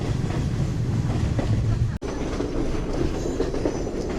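A passenger train on the Ella line in Sri Lanka, on a route through tea plantations, rolls steadily with a loud, continuous rumble and rattle of the carriages and a brief dropout midway.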